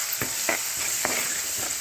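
Spices and curry leaves frying in oil for a tempering, sizzling steadily up close with a few sharp crackles and pops spaced across the sound.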